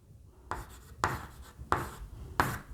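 A pen or pencil scratches out math notation by hand in four short strokes, each a brief scraping burst about half a second apart, close and quiet with no talking.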